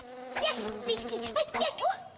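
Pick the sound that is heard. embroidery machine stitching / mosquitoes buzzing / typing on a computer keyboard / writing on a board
mosquitoes buzzing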